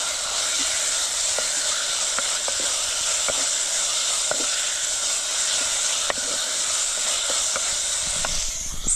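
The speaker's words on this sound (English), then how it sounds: "But first we need to let our tomatoes to cook." Tomatoes sizzle in a hot pan, a loud, steady hiss close by with scattered faint pops and crackles throughout, no one talking.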